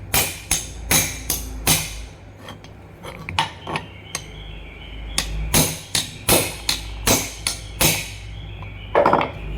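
Sharp metallic taps ring out as a screwdriver knocks the circlip free from an Orient self-priming pump, a close series of irregular strikes in clusters, with no voices.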